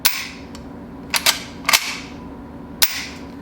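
A handgun's trigger pulled on snap caps several times, each dry-fire giving a sharp, close click in an irregular series, with the slide worked between shots.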